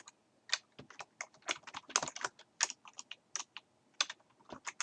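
Rapid typing on a computer keyboard while entering text in Word 2013, with clustered keystrokes in irregular bursts and short pauses, close and fairly quiet, no voices.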